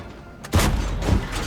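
Tank cannon fire in World of Tanks from a T-54 Mod. 1: two heavy booming shots about half a second apart, each with a sharp thumping onset and a lingering rumble.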